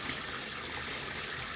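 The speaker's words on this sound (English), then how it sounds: "So I am washing off some vegetable." Kale and spinach being washed in a sink of water, a steady faint wash of splashing and running water throughout, no voices.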